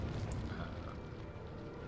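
A Resident Evil 4 explosion rumbles in the background of the game, giving a dense, low, continuous roar that stays loud and steady throughout.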